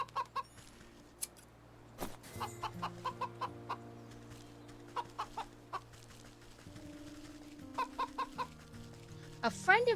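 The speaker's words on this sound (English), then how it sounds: "I'm not looking forward to having to fight that goose." A goose in the video game Wytchwood gives a run of short clucking, honking calls in quick bursts, set over a low sustained game music drone.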